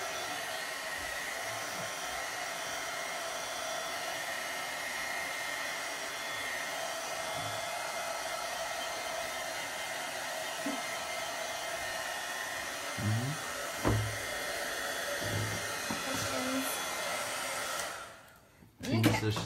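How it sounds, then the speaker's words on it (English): A heat gun blows steadily while drying wood stain on a wooden centerpiece project, a constant close whooshing drone with a few faint bumps and knocks, cutting off near the end. "I'm gonna blow dry it with the heat gun for just a minute before I apply our white paint"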